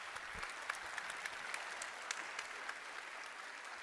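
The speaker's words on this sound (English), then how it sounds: "faire un big round of applause pour nos interprètes" A roomful of people at a Euroscola youth session claps for the interpreters in steady, sustained applause with crisp individual claps throughout.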